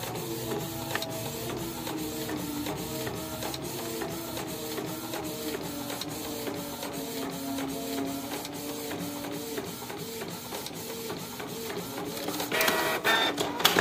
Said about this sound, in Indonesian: Kita proses cetak dulu.